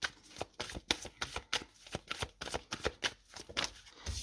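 Tarot cards shuffled by hand in a steady rhythm of crisp riffling flicks, close and fairly quiet, a dozen or so quick bursts with short pauses between them.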